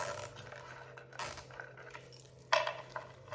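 Fasteners on Christmas decor are tightened by hand, giving a few short metallic ratcheting clicks and scrapes in separate bursts, fairly close and quiet.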